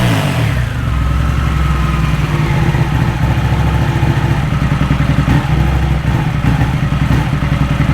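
A Ducati motorcycle engine idles roughly after five weeks laid up, its steady low rumble loud and close with a faint, uneven pulsing throb, and no voices.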